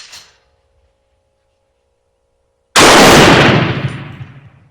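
A single loud rifle shot from a Turkish Mauser at an outdoor shooting range, sharp and close, followed by a long rolling echo that fades out after a stretch of quiet.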